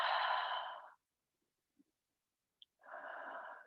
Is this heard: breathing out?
yes